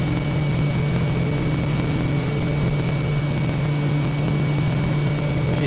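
A propeller plane drones steadily in Microsoft Flight Simulator over Papua New Guinea, a loud, unbroken engine hum with a high whine layered on top and no voices.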